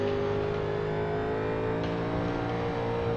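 A 1987 NASCAR stock car engine on throttle in iRacing at Phoenix, a steady loud droning roar with dense harmonic buzz holding constant throughout, no voices.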